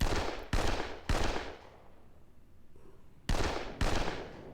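Artillery and gunfire from Panzer Campaigns Poland 39, a computer wargame, come as five sharp booming bursts in two close pairs and a later pair, each fading out, with a quiet lull between.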